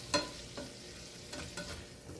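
Food cooks over medium heat in a pan with a soft, steady fry, broken by several distinct scraping stirs spaced through the moment.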